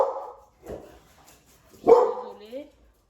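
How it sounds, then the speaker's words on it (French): A couple of short dog barks sound close by, with a brief bark near the start and a louder bark-like yelp around the middle, separated by quiet gaps as a voice speaks briefly. "Hop là, les chiens."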